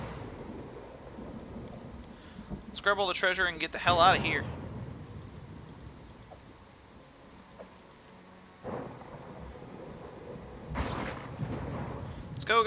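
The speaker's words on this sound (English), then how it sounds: "Oh, it's the storm that's making us slow." Thunder rumbles and rain falls during a storm in the video game Pathfinder: Kingmaker, with a loud crack near the middle and heavier bursts later, mixed under excited voices talking over the game.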